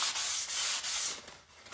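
Finest sandpaper rubbed over painted stained glass, steady back-and-forth strokes, loud and close, with short pauses between passes.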